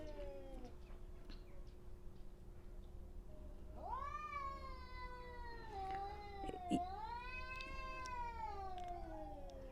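Two cats yowling at each other in a territorial standoff, long rising and falling caterwauls overlapping from about four seconds on, with a brief sharp burst midway, fairly distant over faint background noise.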